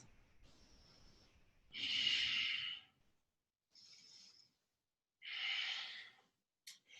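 Slow, deep breaths during a standing yoga pose in a vinyasa class, close and audible: two long airy exhales with softer inhales between, separated by brief quiet gaps.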